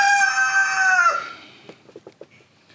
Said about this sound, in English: Please excuse my chicken.